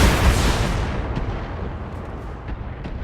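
Heavy mech weapons unload in a single volley into an enemy mech's rear armor in the BattleTech video game, a loud broad blast that rolls off into a decaying rumble with a few faint crackles trailing behind.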